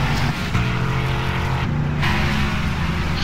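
A race car at an ANZCAR Thursday Night Thunder event at Sonoma pulls into the pits, its engine a steady, loud, close drone running throughout with no break.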